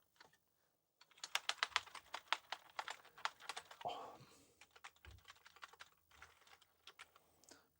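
Keys being pressed on an Amiga 600 keyboard with a faulty membrane, a quick, irregular run of close, light plastic clicks with brief pauses and a faint thump partway through.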